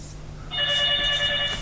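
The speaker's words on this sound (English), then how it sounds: "Oh, there goes my cell phone." Cell phone rings indoors during an electronics lesson, a steady electronic tone pattern starting abruptly and continuing at moderate loudness over a quiet room hum.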